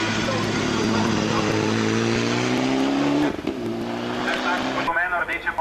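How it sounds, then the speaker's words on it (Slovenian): A red Porsche 997 GT3 race car roars at a hill climb, engine screaming at high revs, then cutting off abruptly before smaller revs follow, with commentary talking over it. "rdeče pobarvani Porsche 997 GT3 evropskega prvaka Aleša Preka"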